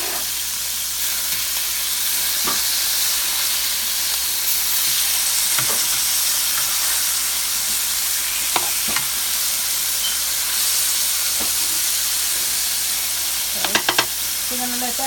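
Salmon frying in a pan after being flipped, a loud, steady broad sizzle and hiss with occasional sharp clicks and a few pops near the end.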